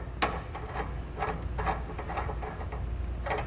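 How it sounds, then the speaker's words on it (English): A bolt with a lock washer is turned by hand into a 2-inch trailer hitch ball mount, giving a soft continuous metallic grinding with faint clicks, close and quiet, with no voice. "so we're going to start screwing it in there"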